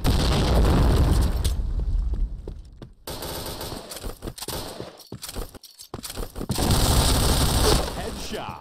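Grenade blast in a shooting video game, a loud boom amid heavy automatic gunfire, with bursts of shooting broken by brief quiet gaps.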